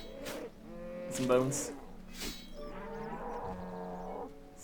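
Cows in the video game RuneScape moo in a few drawn-out, tonal calls over game sound effects, with a brief metallic clang and a short spoken remark mixed in.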